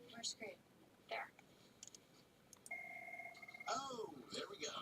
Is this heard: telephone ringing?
yes